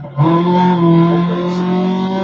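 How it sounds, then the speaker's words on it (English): Rally car engine in Dirt Rally 2.0 revving loudly and steadily, a strong harmonic drone that holds and wavers slightly across the stretch, no talk. "Oh wow, that engine is sick."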